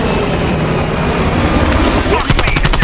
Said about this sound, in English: Chopper coming in low.